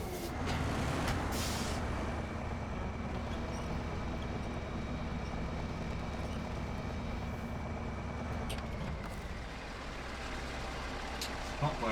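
A heavy truck pulling a trailer in the game SnowRunner on hard mode makes a loud, steady engine rumble that drones throughout, with hissing air-brake bursts near the start and again toward the end.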